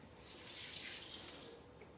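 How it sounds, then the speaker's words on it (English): Tap water runs steadily into a sink while hands are washed in a kitchen, a continuous close hiss of moderate loudness lasting the whole stretch with no talking. "I'm gonna wash my hands really quick."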